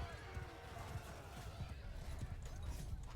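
Heavy cavalry horses in the video game Bannerlord pound along in a battle, making a busy, continuous drumming of hoofbeats with a low rumble, while someone talks over it.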